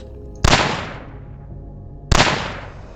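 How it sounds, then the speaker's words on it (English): Two loud, booming gunshots fired in the video game Terminus, spaced well over a second apart, each with a long echoing decay fading after the crack. "if I really want to, I could start shooting"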